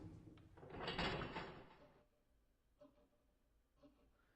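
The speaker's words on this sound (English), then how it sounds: "When the door was closed, it automatically made a clunk" A door in a visual novel swings shut with a broad sweeping whoosh, then an automatic lock engages with two soft mechanical clunks spaced apart, quiet and close.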